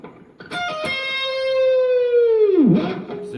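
An electric guitar with a whammy bar plays a sustained note picked at the 17th fret of the G string, then the bar is pushed down into a dive bomb, sweeping the pitch steeply lower before it recovers. The guitar plays alone, clean and close.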